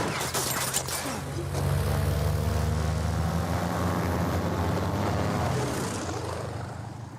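Propeller plane engine in the Uncharted video game, the aircraft shot up: a steady, loud droning roar with low throbbing hum, a few sharp cracks near the start, holding constant before easing off at the end, no voices.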